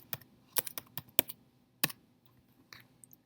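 Computer keyboard keys are pressed in a short, irregular burst of crisp clicks, a few quick taps then a pause and two softer presses, close up in a quiet room with no talking.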